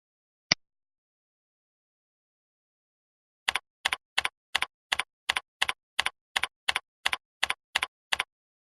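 On a computer keyboard, a single sharp click is followed after a pause by an evenly spaced run of about a dozen crisp keystrokes as an account password is typed. The sound is quiet and close, with silence in between.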